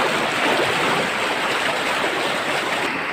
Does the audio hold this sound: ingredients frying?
no